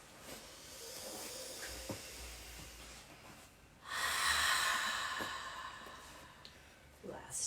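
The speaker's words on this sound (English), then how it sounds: "3 more breaths." Slow, deep breaths drawn and released through the nose and mouth during a home yoga session, soft and close with a louder exhale in the middle, under faint background noise.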